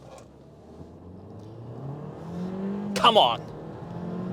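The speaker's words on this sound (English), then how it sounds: "let's launch the Kia Seltos GT line" A Kia Seltos GT Line in sport mode launches from a standstill, its engine droning and climbing steadily in pitch as it accelerates hard, close inside the cabin, with a person briefly speaking over it.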